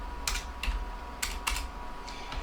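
Faint, scattered keystrokes tapped out on a computer keyboard while typing C++ code, about six soft clicks in loose clusters over a steady low hum.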